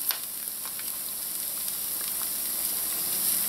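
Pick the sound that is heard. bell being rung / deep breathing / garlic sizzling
garlic sizzling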